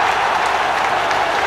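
A football crowd at Middlesbrough versus Newcastle United applauds steadily, a dense continuous wash of clapping filling the stadium with no break.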